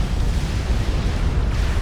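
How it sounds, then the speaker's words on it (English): Nuclear missile strike in Supreme Commander: Forged Alliance, a sustained deep rumbling blast that stays loud and dense for its whole length, with no voices over it. "the nuke hits those Fatties, and that is great damage from Khal"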